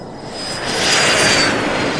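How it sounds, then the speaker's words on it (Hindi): A private jet passes overhead as a loud, steady broadband roar that swells toward the middle and holds, with a thin high whine running through it and no voices. "निकी ने आसमान में एक प्राइवेट जेट उड़ते देखा"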